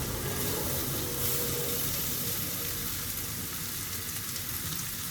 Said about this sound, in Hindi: अब इसमें हम हमारा भीगा हुआ पोहा ऐड कर देंगे।